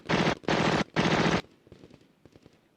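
Automatic weapon fire in the Lock 'n Load Tactical Digital tactical wargame, a Vietnam-era fight against the NVA at Chin Dhuc: three loud, dense bursts of machine-gun fire in quick succession, followed by fainter scattered shots and rattling.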